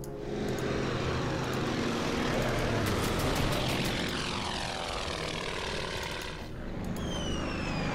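Warplanes in the strategy game Order of Battle making an attack run on enemy ships, with a steady, loud propeller-engine drone and Doppler-like sweeps throughout, plus faint crackling effects.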